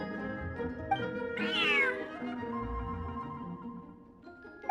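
A cat in the game Genshin Impact lets out a single drawn-out meow over soft background music, close and clear, with no talking.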